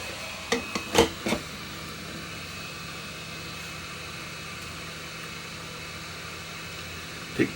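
A hot air rework tool blows a steady low hiss of heated air onto fluxed solder on a circuit board, with a few brief clicks and taps near the start.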